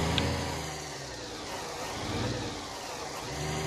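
Heavy truck engine accelerating on an Alaskan road, a broad rumbling drone that swells slightly as the revs rise, steady and close with no talking.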